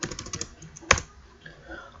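Computer keyboard typing while data is entered into an Excel form: a quick burst of light key taps, then a single sharper keystroke near the middle, followed by quieter scattered clicks, close and alone.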